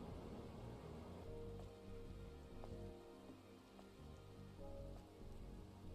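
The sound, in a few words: rain falling in the video game Stellar Blade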